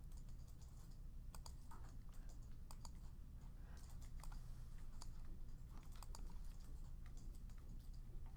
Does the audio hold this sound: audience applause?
no